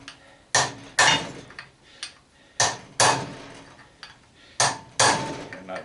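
Sharp metal hammer blows on a curved steel punch driven into an old scrap arc welder, loud close strikes arriving in pairs at a steady rhythm, each ringing briefly before the next, with no talk.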